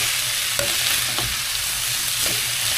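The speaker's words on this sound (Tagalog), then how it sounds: "So, igisa lang natin para magiging masarap na. Ayan. Haluin lang natin." Cooked pork for sisig sautéed and stirred in a pan, a steady close sizzle with scraping utensil strokes and occasional clacks against the pan, no voices.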